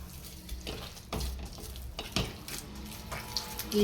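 Obbattu dough being kneaded by hand with oil, giving soft, irregular squelching and slapping pressings that repeat through the clip at close range, with no talk over them.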